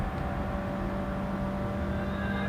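In the Gran Turismo 7 video game, a car engine pulls hard in fifth gear, a steady, close droning whine that rises slightly in pitch and runs without a break or any talking.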